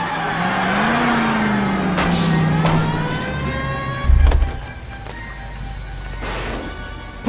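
In the video game L.A. Noire, a car chases and rams a fleeing car's rear wheels: an engine note rises and falls over skidding tires, then a heavy crunching impact lands near the middle, followed by scattered clatter.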